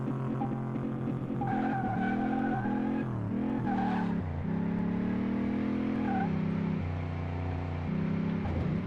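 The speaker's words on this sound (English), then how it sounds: "I'm just gonna mash on the gas" Ferrari 512 TR engine in Car Mechanic Simulator 2018 revving hard at a drag strip, loud and continuous, the pitch climbing and dropping through several surges with some squealing tire noise.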